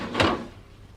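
A door shut quickly in a dark room during a hurried escape, giving one dull thud with a brief rattle, close and moderately loud, then fading into quiet room tone.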